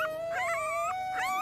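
Newborn puppies whimper and howl in high, wavering cries, several rising and falling calls across a steady faint tone, close and fairly loud with no one talking.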